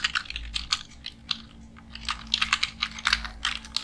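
Rapid clicking of keys on a computer keyboard during a live computer class, typing in short bursts with brief pauses, close and fairly quiet over a low steady hum.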